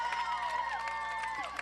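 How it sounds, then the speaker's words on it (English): A home crowd at a high school football game cheers a Tigers touchdown run, with distant, sustained crowd noise rising beneath a play-by-play announcer talking over it. "that gives the home crowd something to cheer about"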